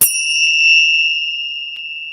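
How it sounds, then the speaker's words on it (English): A single bright bell rings once with a sharp strike and then a clear, sustained metallic tone that slowly fades, loud and close, with no voices. "I got some bells. This will wake you up, Robin."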